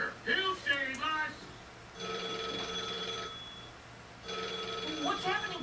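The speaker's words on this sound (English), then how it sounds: "It's a phone call, dingus." An iPhone rings with an incoming call, two electronic ringing bursts separated by a short gap, while people talk just before and after each ring.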